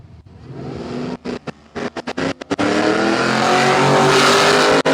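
A classic Pontiac Trans Am roars down a drag strip, a loud, rough engine building from choppy bursts into a sustained, dense roar that holds steady to the end, close and overpowering.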